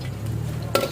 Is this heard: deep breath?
no